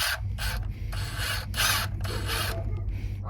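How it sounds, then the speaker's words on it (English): A ratchet backs out a long 14 mm idler pulley bolt on a 2001-2007 Toyota Sequoia/Tundra 4.7L V8, with repeated close clicking, rasping strokes in an uneven rhythm and no talking. "this is a 14 millimeter bolt. Just gonna take it out real quick."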